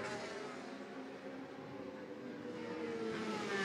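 Racing motorcycles at the Macau Motorcycle Grand Prix, 2022, howl steadily past on the street circuit during lap 3 of 8, a loud, continuous engine roar that swells slightly toward the end.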